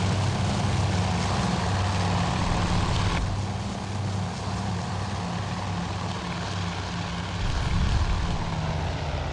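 Low-flying Dauntless dive bombers in the Task Force Admiral game, a steady, loud propeller-engine drone with a deep throbbing low rumble that holds throughout, swelling slightly near the end.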